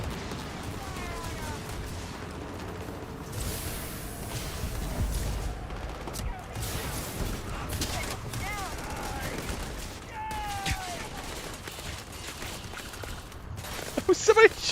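Distant gunfire from opposing forces battling in Starfield, a sustained crackle of scattered shots and bursts under a busy background, with a sharp louder pop near the end.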